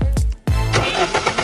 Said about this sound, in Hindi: इतना कहकर उसने अपनी गाड़ी का गेट बंद किया और होटल पार्किंग से निकल गया